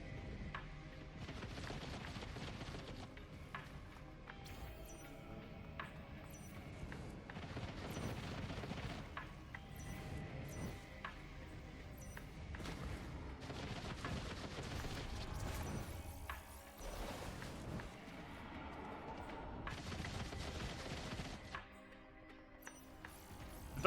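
Missile and weapon fire bursts in the sci-fi shooter Risk of Rain 2, dense layered volleys of booms and crackles running steadily throughout amid continuous game noise.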